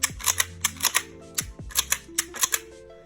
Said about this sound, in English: we can obviously pull the trigger, hold it, and rack the slide